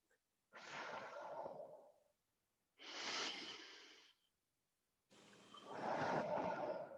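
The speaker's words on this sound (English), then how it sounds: "Keep breathing, nice full deep inhales and nice full deep exhales." Deep, full breaths taken during a stretching exercise, three long airy inhale and exhale passes close to the microphone, separated by short silences.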